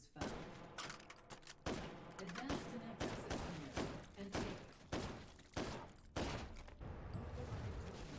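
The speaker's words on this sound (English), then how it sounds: "Anti-material rifle with a suppressor for longitude" Suppressed anti-materiel rifle fire in a video game, a rapid series of heavy muffled shots with thumping impacts and mechanical clatter, dense and continuous over roughly eight seconds.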